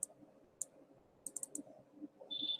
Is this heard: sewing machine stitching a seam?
no